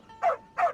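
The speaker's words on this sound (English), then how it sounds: "there's a good dog. Calm down." Two short whimpering dog yelps from Genshin Impact, evenly spaced and fairly close, over a quiet steady background hum.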